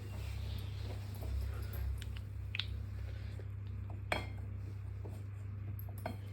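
Two-handled cooking pans being handled and opened in a cozy French home, with scattered metallic clinks and clanks, one sharper knock near the middle, over a low steady hum.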